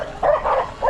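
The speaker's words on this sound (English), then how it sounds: "Beautiful dogs." Dogs bark and yip in a back alley in Compton, Los Angeles, with a short burst of two or three loud, close barks.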